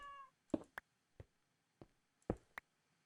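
A Minecraft cat meows in a few short, separate calls spaced over a quiet background, with soft clicks and taps between them.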